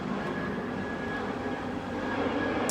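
A helicopter flying over a backyard, a steady droning engine rumble with a faint whine holding constant across the whole clip at moderate distance, with no talking.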